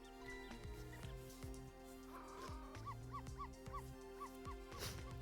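Small cartoon-style dog Barks yapping in the video game Ghost Trick, several short barks and whimpers over busy game music and chiming effects.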